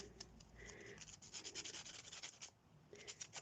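A nail file rubbed across a handmade mixed media card, giving quiet, close scratchy strokes in a steady back-and-forth rhythm, with a short pause before a final burst of rubbing.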